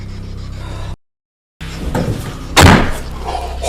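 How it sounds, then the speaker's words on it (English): A door being closed shut in a house during a ghost hunt, a sudden loud slam after a brief silence, with some rustling and shuffling around it. "I had to close the door."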